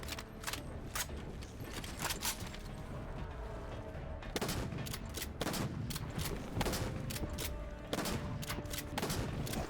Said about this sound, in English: Trying to shoot his kneecaps.